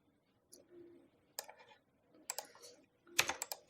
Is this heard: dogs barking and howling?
no